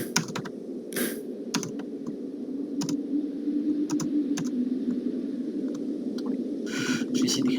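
Computer keyboard typing during a Roblox Mount Everest climbing game, with bursts of clicky keystrokes over a steady low background hum, fairly close and moderately loud, with no speech.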